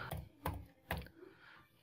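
A computer keyboard typing a search into Google, with three distinct sharp keystrokes in an even rhythm, close and clear, followed by a faint tail.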